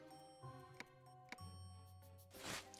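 A chiming bell from the video game Labyrinth of Galleria rings over soft background music, with a few bright tinkling strikes and a final shimmering ring near the end.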